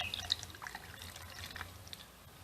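River water pours and trickles through a plankton net outdoors, a soft continuous splashing with scattered drips, fairly faint and steady throughout.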